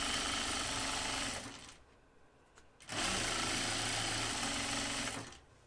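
Sewing machine stitching a flight suit, a loud close mechanical whirr in two long runs separated by a brief pause.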